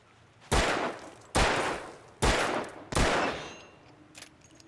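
Four loud gunshots ring out in the video game Alan Wake as a trap is shot, evenly spaced about a second apart, each sharp crack trailing into a short decaying echo, with a faint thump afterward.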